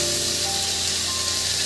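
Ground ginger and chili paste sizzles steadily in hot oil with garlic while cooking doi katla, a continuous close frying hiss with no talk.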